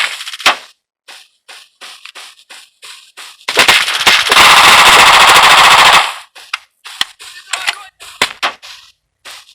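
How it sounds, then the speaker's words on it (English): In a video game, a Glock 18 fired close and loud, with scattered single shots, then a long sustained burst of rapid automatic fire lasting a couple of seconds, then more sharp isolated shots. "That's the Glock 18."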